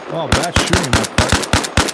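Rapid bursts of automatic gunfire in Arma Reforger, loud and close, firing in a steady rhythm of punchy shots with brief gaps between bursts, with faint game tones underneath.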